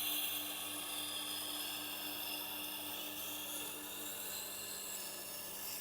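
Steel knife blade drawn slowly across the grinding wheel of a Tormek T8 sharpener, a steady continuous abrasive hiss with a low motor hum beneath, even and unbroken throughout with no talking.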